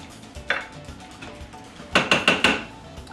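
Turkey tetrazzini stirred in a pan, close metallic scrapes and clinks of a utensil, one knock early then a quick cluster of four or five sharp scrapes near the end.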